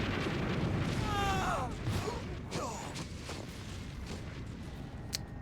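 A grenade blast in Metal Gear Solid lands as a dull, rumbling boom inside a dense wash of game noise and mechanical whines, with the low roar trailing off over several seconds.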